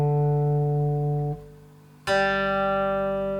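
The low D string of a three-string cigar box guitar in DGB tuning rings with a steady bright tone, fades, then is plucked again and sustains clearly with no other sounds.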